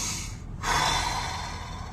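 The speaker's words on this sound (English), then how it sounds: "take a deep breath in" One sharp, audible inhale, a deep breath drawn in through the nose or mouth, close and clear with a brief pause before it, no talking.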